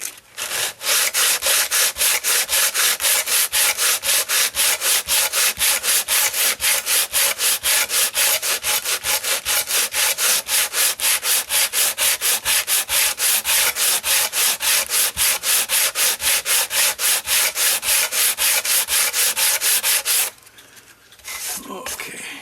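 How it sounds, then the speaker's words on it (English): Wooden cuckoo clock part, from a Regula clock with woodchopper, dancers and waterwheel, being sanded by hand in steady rapid back-and-forth strokes that run loud and close for about twenty seconds, then stop abruptly, leaving a quieter tail. "now I can sand these"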